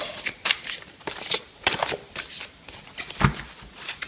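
Ascended Masters oracle cards are shuffled by hand, giving quick papery riffles and soft slaps in an uneven run of bursts, close and fairly loud, with no talking.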